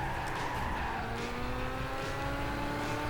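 Tires squeal on a Lamborghini Gallardo pushed through a race in Gran Turismo 5, a steady high whine layered over constant engine drone for the whole stretch, loud and continuous with no talking.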